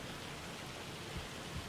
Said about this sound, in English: It's hailing. In the middle of summer.